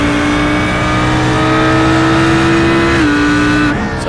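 Sports cars race at Donington in the Australian Sports Car Championship, with a loud, steady engine drone held at high revs for several seconds. The pitch dips slightly near the end as the car eases off.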